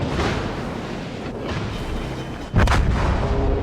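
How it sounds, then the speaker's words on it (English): A heavy burst of naval gunfire from an enemy warship's secondary battery in World of Warships, a dense rumbling barrage that swells into a sharp, loud blast near the end. "That's his secondary guns."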